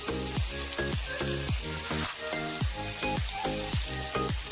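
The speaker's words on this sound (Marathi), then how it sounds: "बघा मित्रांनो, एकदम भारी असे आपण फ्राईड करतोय." KFC-style crispy chicken pieces deep-fry in hot oil at home, a loud, dense sizzle with a steady pulsing bubble running throughout.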